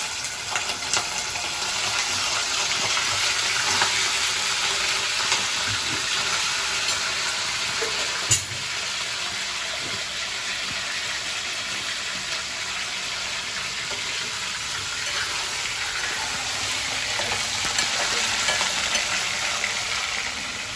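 Chicken sizzles in a hot pan with a continuous broad hiss and crackle, fairly loud and unbroken for a long stretch, one brief knock partway through and no speech.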